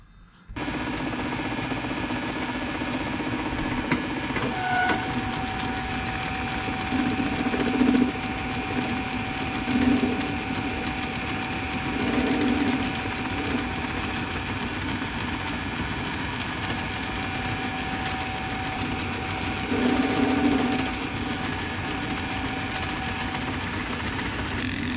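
A lathe machining a shaft for a Myford bandsaw kit in a workshop, a steady motor hum running throughout with periodic louder cutting passes as the tool works the metal.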